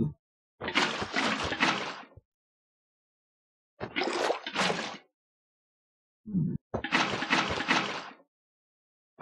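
Items splashing into water in a Minecraft GregTech modpack, three separate sloshing splash bursts of a second or two each, separated by silence, plus a brief softer sound just before the last.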